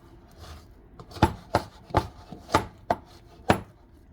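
Shaggy sourdough discard dough being mixed in a bowl to work in the flour, heard as a series of sharp, irregular thumps and scrapes, close and alone without speech.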